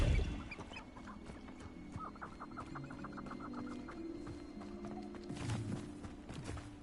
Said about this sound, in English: Accio. Come here, chicken.